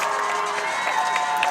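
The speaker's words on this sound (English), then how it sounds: "St. Joseph's crowd to our left cheering to hold him" The St. Joseph's crowd at a six-man high school football game against Heritage Christian cheers continuously, a dense mass of shouting voices with higher children's cries over the top, moderately distant.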